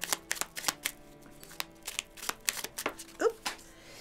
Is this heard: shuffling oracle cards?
yes